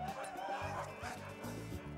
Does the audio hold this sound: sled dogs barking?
yes